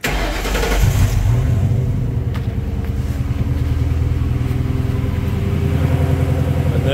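A homemade vehicle's engine cranks and catches, then settles into a loud, steady running rumble with a low throbbing idle that continues unbroken to the end, with no talk over it.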